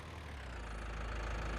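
A tractor engine idles in Farming Simulator 19, a low, steady, rumbling drone with a faint knocking texture, close and unbroken, with no voices.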